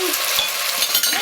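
Vegetables with Smyrna raisins, salt and a bouquet garni stirred in a hot pan, a steady close sizzle with soft scraping strokes of the spoon.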